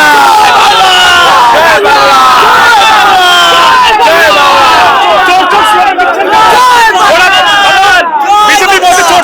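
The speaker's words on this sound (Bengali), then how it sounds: "চোর চোর স্লোগান চলছে তৃণমূল।" A dense crowd at a political rally loudly chants a "thief, thief" slogan in rising, overlapping voices, continuous and close, with shouting and babble blending into the chant.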